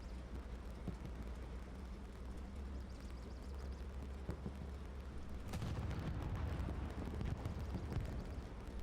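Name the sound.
tank exploding in video game Hell Let Loose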